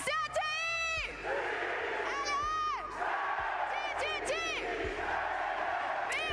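Large live esports crowd at the VALORANT Masters Santiago event cheering and shouting in loud overlapping whoops and chants that rise and fall in waves, close and sustained.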